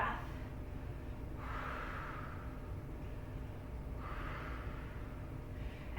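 Slow, deep breathing during a yoga pose: two long airy breaths, each swelling and fading over about two seconds, close and soft against a low steady background hum.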